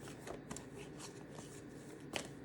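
Angel Answers oracle cards being shuffled, a quiet close riffle with soft repeated flicks and a sharper snap near the end.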